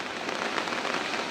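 Continuous monsoon rain pours steadily onto shaded potted adenium plants, a dense, even, close hiss of drops with no pauses.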